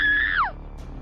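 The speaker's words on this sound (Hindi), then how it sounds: "अचानक डरावनी आवाज में जोर जोर से चिल्लाने लगती है" A woman in a horror story shrieks loudly in a scary voice: one sustained high cry that holds steady, then slides sharply downward and breaks off, leaving faint background noise.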